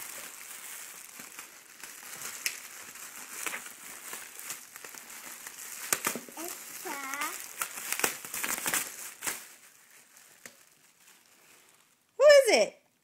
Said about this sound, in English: Here, rip the tape off.